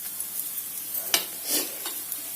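Wheat rava cutlets fry in oil in a pan on a stove turned up to medium heat, a soft steady sizzle with a few brief scrapes and bubbling bursts, close and with no one talking.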